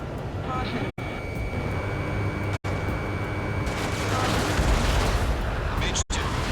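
An anti-air radar vehicle blowing up in the jet combat game Ace Combat 7, a dense roaring explosion rumble swelling over continuous jet engine noise, with radio chatter beneath.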